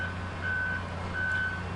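A delivery truck reverses at a highway work zone while dropping off a temporary impact attenuator, its backup alarm giving two clear evenly spaced beeps over a low engine idle.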